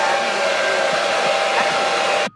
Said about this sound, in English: got my blow dryer here, and I'm going to dry these juicy twists